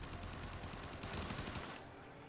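Short, continuous rattling automatic gunfire in the video game Warframe sounds as a dense, steady barrage at moderate level. It thins slightly at the end, with no voices.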